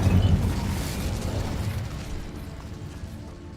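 Incendio fire spell in Hogwarts Legacy: a loud whooshing burst of flame up front, then a broad crackling, roaring rush that slowly dies away over several seconds, with no voices.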